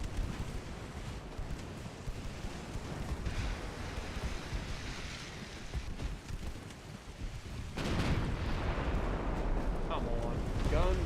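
Warship guns boom in the naval game Ultimate Admiral Dreadnoughts, a deep rolling blast that swells loudly late on over a windy roar of sea and engine noise, while a person talks.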